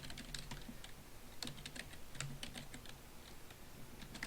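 Close, quiet typing on a computer keyboard, irregular clusters of soft key clicks spread across the whole stretch, with no speech.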